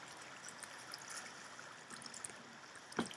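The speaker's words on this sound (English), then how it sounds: "You want to go down this water slide." Steady water streaming down a water slide in Sonic Parkour World, a soft continuous trickling wash with small splashy ticks and a brief louder splash near the end, no talking.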